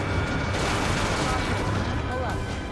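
An aircraft gun fires a rapid, dense burst of rounds in the video game Ace Combat 7, a loud continuous rattle filling the moment with a voice partly underneath.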